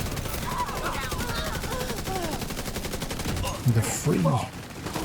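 Video game gunfire crackles in rapid bursts amid a busy battle mix of distant shots and noise, with someone talking over it and brief radio-like voices.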